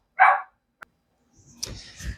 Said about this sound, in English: There go my dogs.